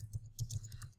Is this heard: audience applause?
no